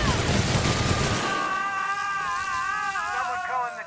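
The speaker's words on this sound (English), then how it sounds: "He's really shooting!" Rapid gunfire bursts from The Outer Worlds, loud and dense at first, then giving way to wavering siren-like electronic tones under a continuous mix of game noise and voices.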